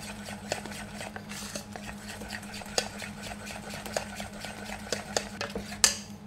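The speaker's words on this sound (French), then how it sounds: "On va mélanger comme ça avec la cuillère, pas avec la fouette." A spoon stirring tempura batter in a bowl, with steady scraping and repeated light clinks against the sides, close and moderately loud, in a chef's kitchen in Bonifacio.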